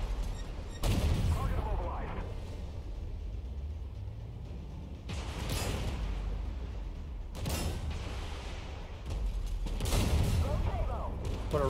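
Tank cannon fire in the video game Armored Warfare, aimed at an M1 Abrams, comes as several loud booming blasts spread across the stretch over constant heavy rumble and mechanical clatter.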